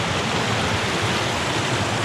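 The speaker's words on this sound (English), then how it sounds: "I could hear this waterfall this morning." A waterfall on a river in the Boundary Waters wilderness near Moose Lake roars as a dense, steady wash of rushing water, loud and close, with no pauses and no voices.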